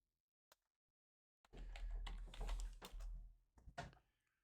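Quiet computer keyboard typing, a single faint tap followed after a pause by a quick flurry of soft clacks over low room hum, then a few last scattered keystrokes.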